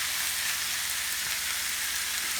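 Thinly chopped meat sizzles in a hot pan, a steady close hiss of frying with faint crackles running continuously and alone.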